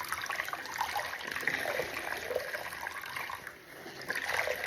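Dirty water streams and trickles from a once-white sweater wrung out over a basket, a steady splashing dribble with short pauses, fairly close and with no talk.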